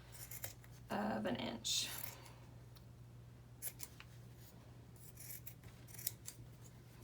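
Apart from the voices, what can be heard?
scissors trimming fabric seam allowance of a face mask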